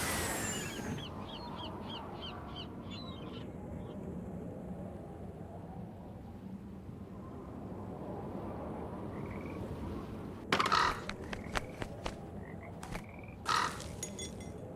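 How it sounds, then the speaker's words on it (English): A crow caws in a few sharp bursts late in Nancy Drew: The Haunting of Castle Malloy, over a steady bed of frog croaks and night ambience. "Wonder what that crow's doing in there"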